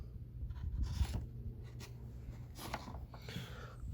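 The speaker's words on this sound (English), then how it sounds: "I'm going to draw some little marks around here where it doesn't quite fit" Pen or pencil marks drawn on plywood during a Hiace camper van conversion, faint short scratchy strokes in a quiet room over a low background hum.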